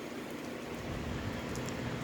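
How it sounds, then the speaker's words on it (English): Steady rain falls outdoors during a storm north of Corpus Christi, Texas, giving an even wash of hiss with faint scattered patter and no voices. "I know they had severe rain up in north of me, and I think we're starting to get it down here"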